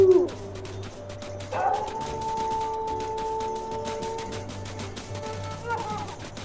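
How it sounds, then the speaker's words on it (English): A wolf pack howls in WolfQuest, long sustained and overlapping howls held at a steady pitch, a fair way off and fading out near the end, with a low background hum. "That's them howling."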